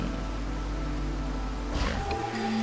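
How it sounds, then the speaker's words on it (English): Steady broadband rain hiss in the video game Against the Storm, a continuous wash of falling rain with a brief brighter swell near the end, heard alone without talk. "Rain is getting heavier."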